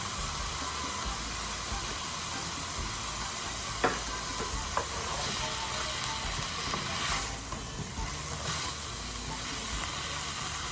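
Steady frying sizzle as half a cup of cilantro goes into a hot pan for Puerto Rican plantain lasagna, a continuous close hiss with a few small pops and stirring clicks, no talking.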